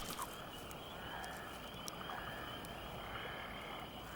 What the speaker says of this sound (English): An oak toad.